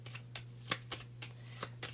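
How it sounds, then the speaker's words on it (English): Tarot cards being shuffled by hand, a steady series of crisp riffling bursts repeating about every quarter second over a low constant hum, close and fairly quiet. "we're going to shuffle the cards and see which one comes out for the next reading"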